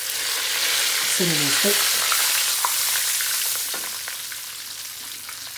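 Whole spices, including inch-long cinnamon sticks, sizzle steadily in hot oil for a chicken roast bhuna, a loud, even crackling hiss with a few sharp pops and a brief clink of a utensil.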